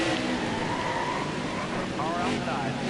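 Race car engines in the NASCAR Heat 4 video game at Richmond Raceway, a sustained high buzzing roar with shifting revs and a brief pitch sweep, under a commentator's continuous talk.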